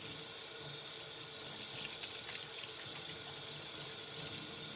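Water runs steadily from a kitchen tap into a sink during handwashing, a continuous close hiss and splash with no talking.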